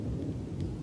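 A deep, unusual thunder rumbles steadily at a low level throughout, a dense booming roll with no clear break and a faint hiss of rain above it.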